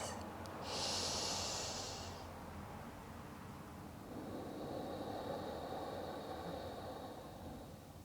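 Deep, slow breaths during a gentle yoga practice: a long, airy inhale rises and gives way to an extended exhale, close and steady with no talking.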